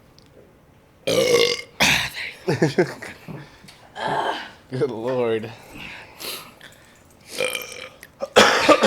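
A man belches several times in short, croaky bursts among casual podcast chatter, with chuckles and spoken remarks between the burps.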